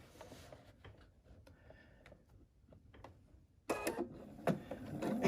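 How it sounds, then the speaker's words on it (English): A sewing machine top stitches around the upper edge of a fabric hanging storage pod, quiet ticking at first, then a louder steady mechanical run starts partway through and continues to the end. "we are just simply going to top stitch all the way around the top of our storage pod"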